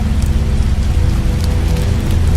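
Rain falls steadily in the video game The Wolf Among Us, a constant dense patter with a low rumbling bed, loud and even throughout, with no voices.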